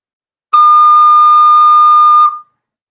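A single sustained recorder note D, played with only the second finger and no thumb, sounding clear and steady for close to two seconds, then stopping.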